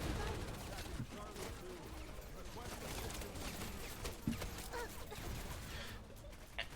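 Gunfire in Wild Assault: a dense, continuous barrage of shots and crackling fusillade with sharp transients scattered throughout, mixed with a voice speaking over the din.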